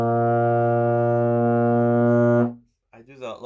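A euphonium sustains a loud, steady low B flat for about two and a half seconds before cutting off, followed by a brief voice speaking.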